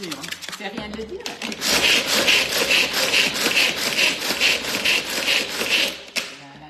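Pistachios being crushed in a Tornado kitchen tool: after a short voice at the start, a loud continuous rhythmic grinding rattle runs for about five seconds, then cuts off.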